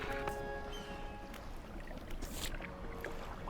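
Fishing boat engine from the Dredge video game, a steady low motor drone running continuously with faint water wash around it and no pauses.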